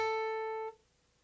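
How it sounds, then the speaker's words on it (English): A single guitar note hammered on at the 12th fret with hesitant finger pressure rings briefly and quietly, then cuts off abruptly, leaving near silence. "If you're hesitant about it at all, it will sound like this."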